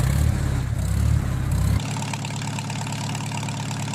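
Farmall 4m series tractor engine idling in Farming Simulator 19, a close, loud low-pitched rumble with steady pulsing that drops to a quieter, smoother idle partway through, with no other sounds.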